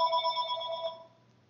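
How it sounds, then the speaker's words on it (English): A cell phone rings with a bright electronic tone, a steady trill that plays for about a second and then cuts off, moderately loud and alone. "You'll have to excuse me for this call here."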